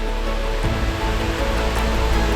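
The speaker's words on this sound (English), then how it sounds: "I'm at my waterfall, the first waterfall I ever visited in Venezuela" Steady roaring rush of a waterfall in Caripe, Venezuela, a loud continuous broadband wash of falling water close by, with no talking.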